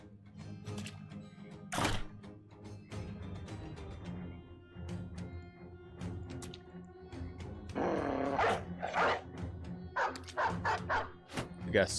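Dogs bark in the video game Battle Brothers, with repeated short barks and yips over a busy game soundscape and no talk.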